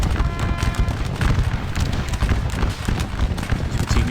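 Musket volley fire from massed infantry in the Scourge of War: Wavre battle game, a dense continuous crackle of overlapping shots and booms, loud and close throughout.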